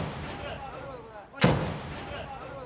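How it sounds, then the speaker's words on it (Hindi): A single loud gunshot cracks out mid-clip during an encounter between security forces and terrorists, over a steady background murmur of voices. "आप गोलियों की आवाज भी सुन सकते हैं"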